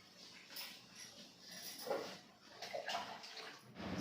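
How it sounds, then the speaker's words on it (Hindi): Chickpeas being rinsed in a bucket of water in a home kitchen, with soft splashing and swishing that rises and falls over several seconds, fairly quiet and close. "मैं यहाँ धुल रही हूँ छोले"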